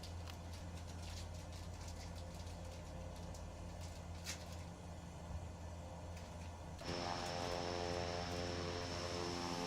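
A propeller airplane engine in Microsoft Flight Simulator 2024 drones with a steady low hum, then swells louder and brighter as power rises partway through, with no talking.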